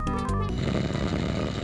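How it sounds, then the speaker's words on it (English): A sleeping bandit in the King's Quest 5 video game snores loudly and steadily, a deep rasping drone that fills the short moment with no other sound. "Snoring loudly upon a beautiful carpet lies a sleeping bandit."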